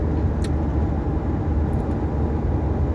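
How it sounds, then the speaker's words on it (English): Steady low rumble of engine and road noise heard from inside a moving car, constant and fairly loud, with no talking. "in my case driving the car"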